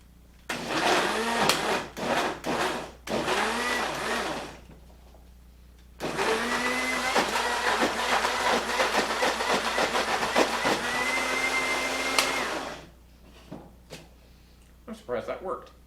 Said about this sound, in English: Always remember the lid when you're blending.